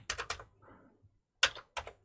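Short bursts of key presses on a Commodore 64C keyboard, a quick pair of clacks, a pause, then two more distinct taps, close and clear with no talking.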